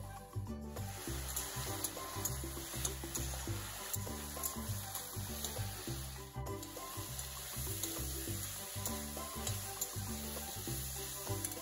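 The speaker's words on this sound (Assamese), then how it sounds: "লাওখিনি অকণমান ভজা গৈছে" Pumpkin fries in a pan with steady sizzling and frequent scraping and stirring strokes, close and continuous, no voices.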